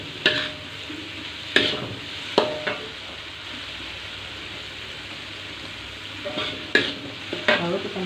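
Chopped spring onions fry in a pan for a white cabbage dish, a soft continuous sizzle broken by several sharp clinks and scrapes of a stirring utensil.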